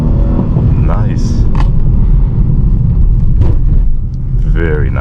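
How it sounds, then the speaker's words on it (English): A Dodge Charger's engine rumbles loud and close during a drift in an empty parking lot, with a low growling roar, brief squeals and a voice talking over it. "very nice, sweet little drift"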